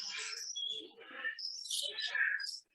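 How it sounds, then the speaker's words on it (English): Rainbow lorikeets in an aviary give shrill, continuous screeching chirps and squawks, loud and close, overlapping with no pause. "And they got lorikeets in here, the little rainbow lorikeets."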